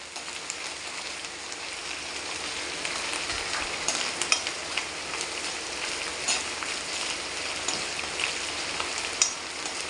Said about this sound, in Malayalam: അതും കൂടെ ചേർത്ത് ചതച്ച് വെച്ചിരിക്കുന്ന നമ്മുടെ കരിവേപ്പിലയും കൂടെ ചേർത്ത് നല്ലതായിട്ടൊന്ന് മൂപ്പിക്കണം